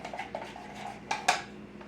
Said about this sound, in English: So about a tablespoon of the barbecue sauce and add that to the mayonnaise. We get that little stir up.